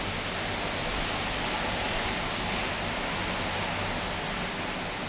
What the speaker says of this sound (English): a sudden rushing sound rose up from the dark road ahead of